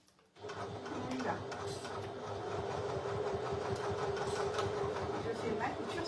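A sewing machine runs steadily on a seam along the full length of a zippered lining pocket for a bag, a continuous whirring drone that starts abruptly and holds, with faint talk in the background.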